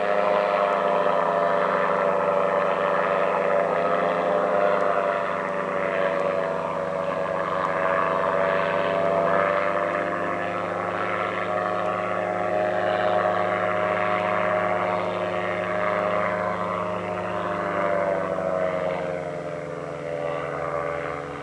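The propeller engine of a powered parachute drones steadily in flight for over twenty seconds, a continuous buzzing roar that stays fairly close and loud with only slight swells, and no talking.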